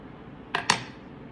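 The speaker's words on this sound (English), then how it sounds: "And I just spoon it onto there and make a nice crust." Two quick metal scrapes or taps of a spoon against a dish while mustard is spread onto roast beef, close and distinct over a low steady hiss.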